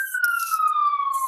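An ambulance siren wailing in the city, a loud steady tone slowly sliding downward in pitch, close and continuous with a brief noisy burst near the end and no talking.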